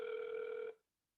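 A telephone rings once during an online class call, a single loud electronic ring that lasts under a second and then cuts to silence, with no talk.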